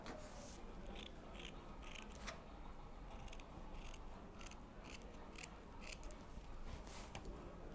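Quiet, rhythmic snips of scissors cutting abaca paper into flower petals, a run of close crisp cuts over soft background hiss, and nobody speaking.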